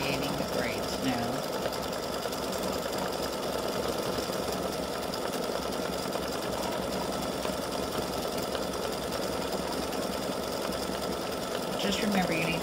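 An embroidery machine stitches a gnome's braids in contrasting thread, a continuous rapid mechanical whirring and clatter that runs steadily throughout, with faint speech beneath it.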